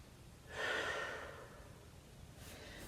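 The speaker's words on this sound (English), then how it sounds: "One more deep breath." A single deep breath during a stretching class, heard as a soft, breathy exhale that swells and then fades over about a second, followed by a faint second breath near the end, with no talking.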